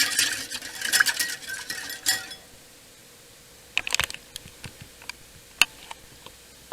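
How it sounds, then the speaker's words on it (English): Whisking a cornstarch slurry into broth for gravy, with a brisk burst of metal clicking and scraping against the pot, then quieter scattered taps and clinks, close and without talk. "Give that a good whisk"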